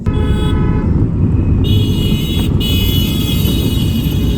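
Heavy road traffic on a highway toward Agra and the Lucknow Expressway, a loud constant engine and road roar with high horn tones sounding intermittently, steady and close throughout.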